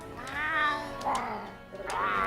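A cat sidekick in Monster Hunter World meows two or three times in quick succession, drawn-out and harsh-toned, close and clear over a soft game background.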